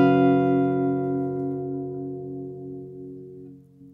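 One acoustic guitar chord shape, fretted around the 8th and 9th frets, sounds once and sustains close and clear, decaying gradually over a few seconds with no voices.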